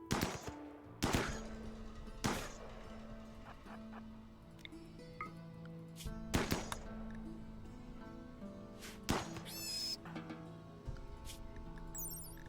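Scattered gunshots in the video game RimWorld, with sharp reports at irregular intervals over a faint, busy game background.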